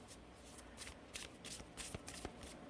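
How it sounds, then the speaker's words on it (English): Oracle cards are shuffled by hand in quick, uneven bursts of soft papery riffles, close and fairly quiet with no talking. "let's pull some oracle cards for you"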